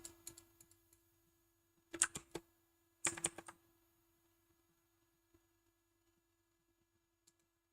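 Computer keyboard keys pressed in a few short bursts of clicks around a quiet, steady hum, with scattered single taps during a game playtest; no talking.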